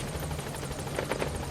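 Helicopter in the video game Metal Gear Solid V, a steady rhythmic rotor chop droning continuously at moderate loudness with no talk.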